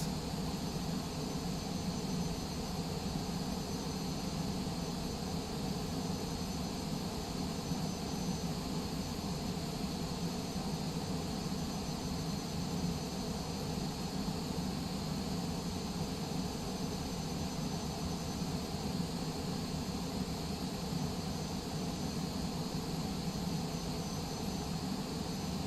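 Jet airliner engines taxiing to the gate at the Delta Terminal, LaGuardia, in a flight simulator game: a steady, constant turbine roar and whine at moderate level, unbroken throughout with no voices.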